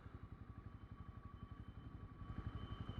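Motorcycle engine idling or rumbling at low speed near Coney Island, a steady pulsing putter heard at moderate distance under faint street background, growing slightly louder toward the end.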